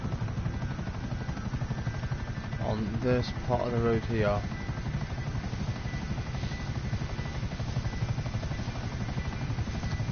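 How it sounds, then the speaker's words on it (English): A helicopter in a video game, its rotor drone steady and continuous beneath someone talking for a few seconds. "I'm going to park the chopper"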